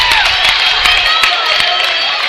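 Basketball crowd roaring and cheering after a hustling steal, a dense continuous wall of voices and applause that stays loud throughout.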